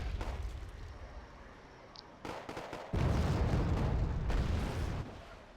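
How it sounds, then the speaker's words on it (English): Uragan rocket artillery fires in the strategy game Red Dragon, a series of distant booming launches that swells into a sustained heavy rumble for a few seconds before dropping back, with no talk. "this Uragan is on firing"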